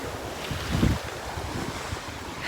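Ocean waves washing over bare feet at the shoreline before sunset: a steady, close wash of surf with a soft swell in the middle, mixed with gusty wind noise on the microphone.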